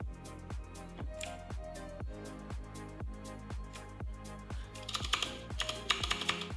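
Quick keystrokes clatter on a computer keyboard while a URL is edited, a steady run of close, crisp taps that quickens into a denser flurry near the end.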